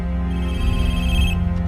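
A telephone rings in a film scene, a steady electronic ring tone sustained loud and close for nearly two seconds against a low background hum, with no speech.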